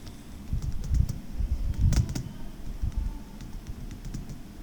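Typing on a computer keyboard while entering a chart title in Excel, irregular clusters of soft key clicks and taps over a low background rumble, close and moderately loud, no voices.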